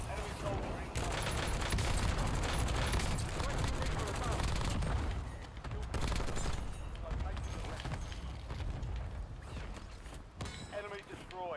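Video game gunfire crackles in dense, continuous bursts of fusillade and machine-gun fire, loud and close, with mechanical clanks mixed in, and a voice speaks over the fighting.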